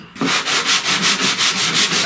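Sanding block working 80-grit paper over body filler on a 1969 Chevrolet C10 truck door, steady back-and-forth rasping strokes in an even rhythm, close and loud, with no talking.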